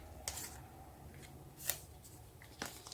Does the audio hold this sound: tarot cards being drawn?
yes